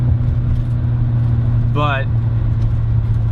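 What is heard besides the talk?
1972 BMW 3.0 CS E9 car engine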